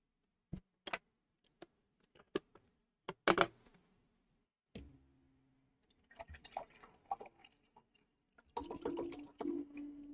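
Water is poured into a glass indoors. Scattered clinks and drips come first, then a short continuous trickle of filling, all faint and close with no talking.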